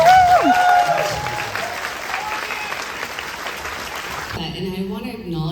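An audience at a live tribute event applauds and cheers, dense, steady clapping that stays loud and then eases slightly, and a voice speaks near the end.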